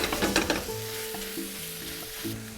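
Butifarra sausage meat sizzles in a pan with a steady close frying hiss, opening with a burst of stirring before settling into an even sizzle with faint tonal hum, no talk.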